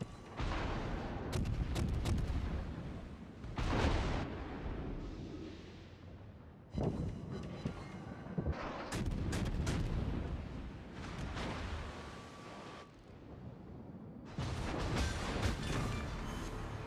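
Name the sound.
naval gunfire from World of Warships video game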